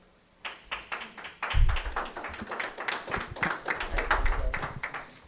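Audience at a school district special board meeting claps and cheers, a steady patter of many hands building quickly and holding loud for several seconds, with scattered shouts mixed in.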